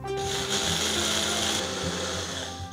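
A mixer grinder coarsely grinds rice, chana dal and fenugreek seeds, giving a loud, continuous high-pitched whir with a rattling, gritty texture. It runs steadily for a few seconds, then eases slightly near the end.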